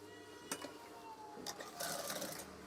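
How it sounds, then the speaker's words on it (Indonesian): A sewing machine stitches an eyelet curtain in short bursts, a faint whirring run with brief clicks and pauses, quiet and close. "Saya akan menjahit bagian ini"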